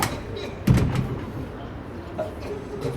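The door of the Perpignan tourist office opens with a solid thump and brief rattle, followed by softer mechanical clicks and a faint chime in a quiet interior, and someone speaks around it.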